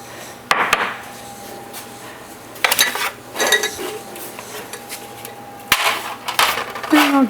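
Metal pans and utensils clatter in a home kitchen as cooking pans are set out for scallops, with sharp clanks and knocks in scattered bursts, close by, and some soft talk between them.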